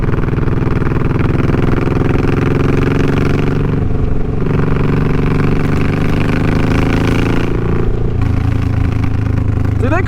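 Suzuki M109R motorcycle engine running steadily while the bike leans into a curve, a loud close rumbling drone with a pitch dip and recovery partway through, and some wind noise.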